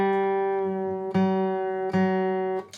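A guitar's third string is tuned down a half step to F sharp. It rings in sustained notes that are struck again about twice, then fades out, with no talking.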